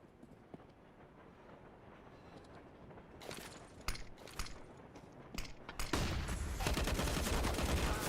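Gunfire in an esports Counter-Strike style match: scattered sharp shots build into a dense, sustained spray of rapid fire, fairly close and growing louder toward the end.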